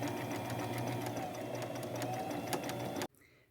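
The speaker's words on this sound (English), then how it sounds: "Now I'm going to go sew all my patches on with like a medium width zigzag stitch" A sewing machine runs steadily, stitching patches onto fabric with a medium-width zigzag stitch in white thread, a fast even whirring hum that cuts off abruptly near the end.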